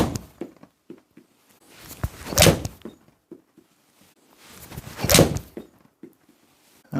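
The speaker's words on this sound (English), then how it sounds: "I'm just going to cycle through a few shots with each golf ball" Iron shots strike Srixon golf balls outdoors, two crisp loud impacts spaced a few seconds apart, with softer scattered thuds and shuffling in between.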